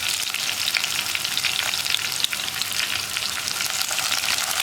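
Crushed ginger, shallots and curry leaves sauté in hot oil for a Kerala fish curry, a loud dense hiss and crackle holding steady throughout, close and with no talk.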